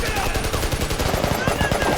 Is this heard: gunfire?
yes